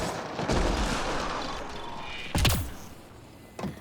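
Turret firing in Mass Effect Andromeda, a couple of heavy booming shots with sharp cracks, moderately loud over a rumbling background, no talk.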